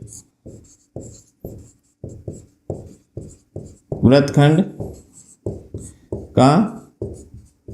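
Chalk scratching out a geometry solution on a classroom board in short, rhythmic strokes, steady and close, while a man explains in Hindi over and between them.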